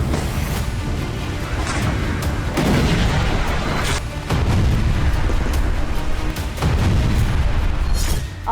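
Explosions from Israeli air strikes on Gaza: loud, heavy booms and deep rumbling that rise and fall in several waves, with no voices.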